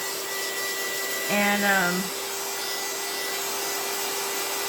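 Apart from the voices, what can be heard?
heat gun drying coffee-dyed paper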